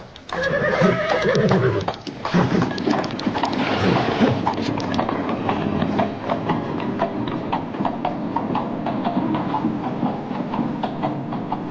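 A horse whinnies loudly and close by in the opening seconds, followed by steady clattering and rumbling, with no voices.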